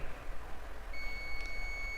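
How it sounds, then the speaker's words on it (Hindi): A multimeter on continuity test emits a steady high beep against a phone circuit line during a Vivo Y91 repair, starting partway through and holding faintly over a low background hum. "बीप साउंड आया"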